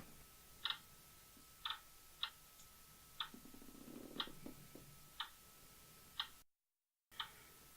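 A clock ticks steadily at about one tick per second, crisp and fairly faint, with a soft low purr-like murmur in the middle and a brief dropout near the end.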